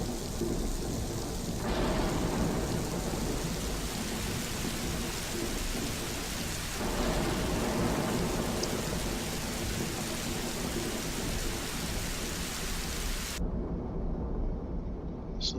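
Steady heavy rain hisses through a thunderstorm in the game Shenmue, with deep rolling thunder swelling midway before the downpour cuts off sharply near the end.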